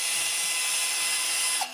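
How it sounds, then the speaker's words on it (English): A handheld power drill runs continuously, a steady high whine with a constant motor hum, close and loud, ending abruptly. "and even this drill"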